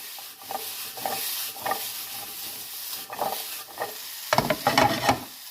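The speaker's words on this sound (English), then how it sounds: "the sweet potato is cooking away nicely here" Sweet potato and onions fry in a pan for a seabass and mushroom risotto dish, with steady sizzling, scraping stirs and a louder burst of tossing near the end.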